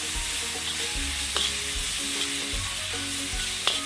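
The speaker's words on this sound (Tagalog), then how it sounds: "Stir fry mo lang hanggang mag golden brown." Lemongrass and stir-fry ingredients crackle in an outdoor wok, a steady loud sizzle broken by repeated scraping stirs, with no voices.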